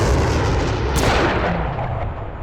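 A tank main gun fires in the Steel Beasts military simulator, a single loud, heavy boom with a rolling low rumble that slowly fades.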